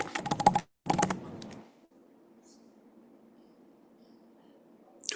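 Brief bursts of rapid computer keyboard typing, with quick clustered key clicks for about a second and a half, then fading to quiet room hum.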